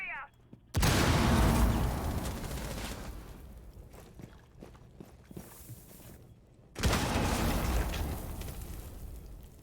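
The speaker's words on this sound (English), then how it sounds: "Throwing stun grenade! Clear the blast area!" A stun grenade goes off in a competitive tactical shooter match, landing as two loud, broadband blasts several seconds apart amid scattered gunfire clatter and footsteps, with team voices calling out over the noise.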